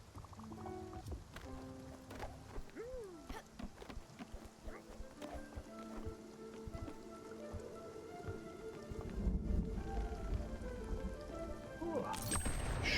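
Rain falls in the video game Spiritfarer, a steady soft patter on surfaces mixed with game music tones and chimes, fairly quiet and continuous, with a louder burst near the end.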